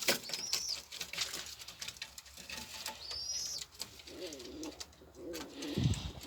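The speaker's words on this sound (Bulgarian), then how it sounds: "Гълъбите са много хубави." Pigeons coo softly among chirping birds and light fluttering, with occasional rustles and a closer coo near the end, a lively outdoor bird scene without clear talk.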